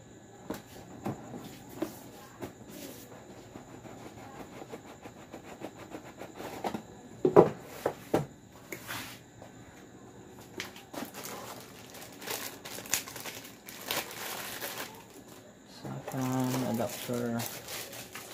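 Plastic packaging for a Comfast adapter crinkles and crackles in irregular bursts as it is pried open at close range, with people talking at times.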